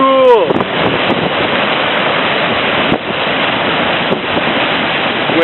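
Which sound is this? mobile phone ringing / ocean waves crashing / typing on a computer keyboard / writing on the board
ocean waves crashing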